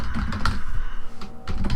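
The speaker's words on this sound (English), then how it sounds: "As you can see, my typing skills are elite." Close, rapid typing on a computer keyboard, with a steady patter of key clicks and a few louder strikes, heard alone without speech.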